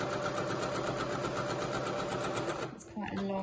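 A sewing machine runs steadily at speed with a long stitch length, stitching along the long top edge of a fabric skirt, a fast rhythmic mechanical chatter that slows and stops near the end.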